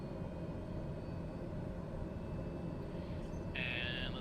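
Turboprop engine of a TBM in Microsoft Flight Simulator spooling up toward full power, a steady loud broadband roar with a high whine rising in the final second.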